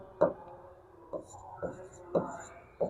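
Chalk or marker strokes on a board come as soft, rhythmic taps and scratches, a handful of short strokes over a few seconds while a calcium phosphate formula is written, close and moderately quiet.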